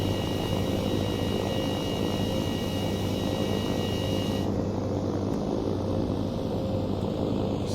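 An Eviation Alice electric aircraft takes off and climbs, with a steady, loud, broadband rush and hum heard from inside the cabin, and a high electric whine that drops away partway through.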